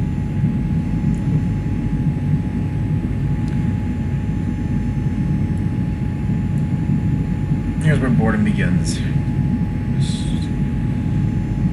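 Steady low aircraft engine drone during cruise flight in X-Plane 11, a continuous hum filling the background under a man's speech.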